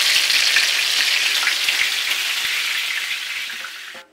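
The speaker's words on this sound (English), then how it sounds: "We're going to refry them like 5 minutes on each side in hot oil." Kingfish fries in hot oil in an open pan, giving a loud, steady, close sizzle with faint pops that fades slightly before cutting off near the end.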